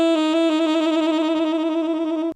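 A single sustained saxophone note, an alternate F sharp fingering, bright and steady, with slight rapid flickers in tone throughout, cutting off abruptly at the end.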